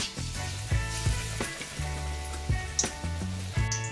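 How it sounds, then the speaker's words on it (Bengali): Battered jumbo pakoras frying in hot oil on a low-to-medium gas flame, a steady close sizzle with soft bubbling and occasional clinks, no talk. "2 পিঠ চুবিয়ে তেলে ছাড়তে হবে, যাতে 2 পিঠেই ভালো করে ব্যাটার লাগে।"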